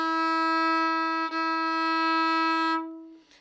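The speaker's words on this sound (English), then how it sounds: "Now from open A forward." A fiddle holds a long, steady bowed note on the open A string, bright and close, ringing clearly for almost three seconds before fading out.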